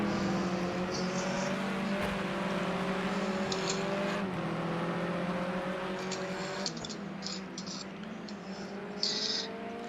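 Race car engines at Willow Springs raceway, one car running close on another's rear bumper; a loud, sustained engine drone with steady harmonic whine that shifts slightly in pitch through gear and throttle changes, continuous for the whole stretch with no talk.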